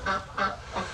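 A duck gives three loud, nasal honking quacks in an even rhythm, close by, at a lake.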